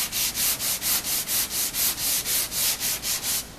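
Steady back-and-forth block sanding of glazing filler on an auto body panel, about fourteen even rasping strokes in a regular rhythm, close and fairly loud with no talk.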